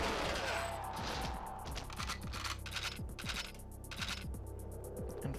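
Gunfire in the GoldenEye 007 video game: rapid repeated shots in a steady rhythm, loud and close, running continuously over a dense background of game music and noise.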